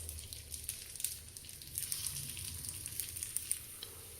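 Batter balls for a fasting-day dish sizzling in an oiled appe pan, a quiet steady crackle with scattered small pops, heard close and alone.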